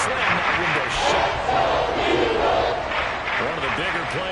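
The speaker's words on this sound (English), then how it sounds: "The crowd getting into it as we come up on a big 3rd down" A football stadium crowd roars steadily through a big third-down moment, a dense continuous wash of cheering and yelling at full volume from start to finish.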